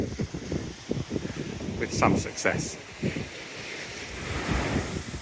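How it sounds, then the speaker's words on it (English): Breezy wind gusting along the Norfolk coast near Caister-on-Sea, buffeting the microphone in uneven bursts beside a distant wind farm, while someone talks over it. "A little bit breezy today."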